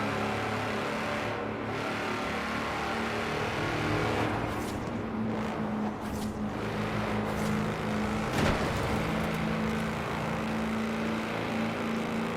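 A tractor engine in Forza Horizon 4 driving flat out at record speed, a continuous loud droning roar with passing whooshes and wind rush throughout.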